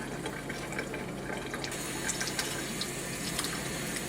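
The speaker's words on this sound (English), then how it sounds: "There's clean water running through it and out of it" Clean water runs steadily through a wet printer wiper roller from a QL-240 service station as the ink is rinsed out, a continuous close splashing trickle with small drips, no voices.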